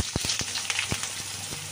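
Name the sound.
potato added to hot oil with cumin and bay leaf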